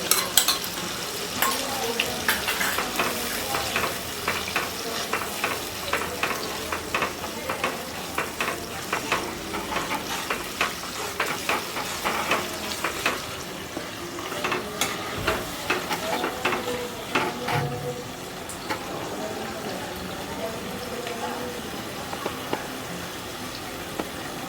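Fish frying in oil in a pan with mustard paste, a steady bubbling sizzle broken by repeated scraping stirs, close and moderately loud throughout.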